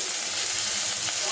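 Onions sizzle steadily in hot oil in a pan with bay leaf as spices go in, a continuous close, loud frying hiss with faint stirring throughout.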